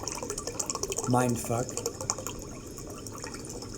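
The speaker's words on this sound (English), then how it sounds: "You put coconut water in a cup" Coconut water pours into a cup with a brief gurgling fill and splashing trickle, close by, while a person talks over it.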